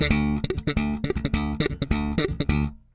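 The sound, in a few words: bass guitar played on D note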